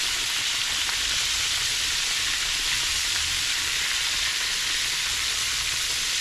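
Catfish pieces fry in oil held around 355 to 360 degrees for a Southern-style fish fry, a steady, dense sizzle and crackle running unbroken at a close, even level with no voices.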